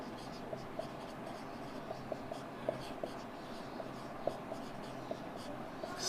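Chalk or marker scratching on a board as a teacher writes short notes, soft intermittent taps and strokes over a low steady room hum, with no voices.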